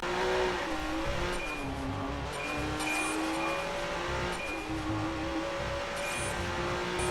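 A Lamborghini racing at high speed in the Watch Dogs video game, its engine holding a loud, continuous roar with gear shifts and rising and falling pitch, plus faint chirps and tire noise layered on top.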